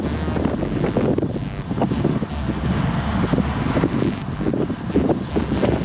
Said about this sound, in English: The wind's buffeting me a little bit